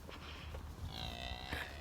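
A cow on a farm, among a herd following the person, gives a faint, distant low moo against steady outdoor background noise, with no talking.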